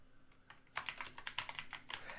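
Quiet tapping at first, then a quick run of crisp keystrokes as code is typed on a computer keyboard for a Tkinter program, close and uneven in rhythm, with no talking.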